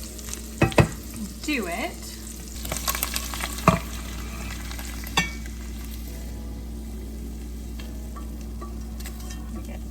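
Sardines fry in a skillet with sharp, irregular pops and crackles over a steady sizzle, loudest in the first few seconds and then settling into a constant hiss.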